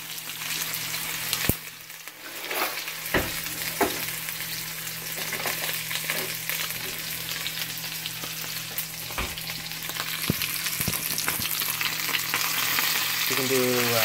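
Potatoes for a breakfast sandwich side frying in a hot pan, a steady close crackling sizzle with occasional scrapes and stirring knocks throughout, no voices.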